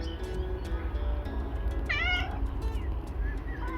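A cat meows several times in a farmyard morning before feeding, the calls close and clear over steady low background noise.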